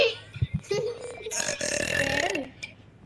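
A drawn-out burp rumbles up in the middle of a Fortnite session, loud and close, with brief voices and game sounds around it.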